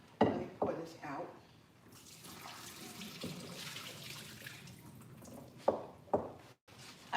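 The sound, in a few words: liquid being poured out of a pressure cooker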